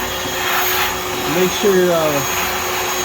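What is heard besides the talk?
small wet vacuum sucking up sink water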